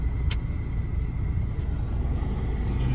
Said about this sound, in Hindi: जाम इतना लगा हुआ है, पता नहीं किस चीज का जाम।